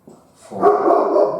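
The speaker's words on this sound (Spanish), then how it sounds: "Que no nos distraiga el ladrido de mi perro" A pet dog barks at home, a short burst at first and then a louder, sustained run of barking and whining that fills the last second, with no voices over it.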